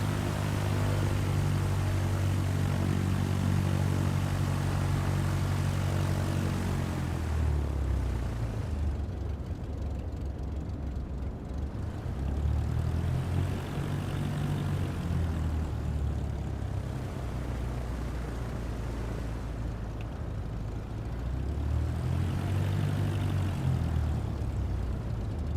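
A propeller airplane taxis in Microsoft Flight Simulator 2024, its steady engine drone holding close and even, with the pitch swelling and easing a few times as the throttle changes, no talk over it.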